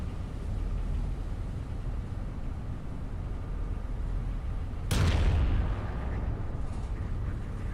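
A single heavy naval gun blast booms out in Battleship Command, a sharp broadband crack with a rumbling tail, standing alone over a steady low background drone.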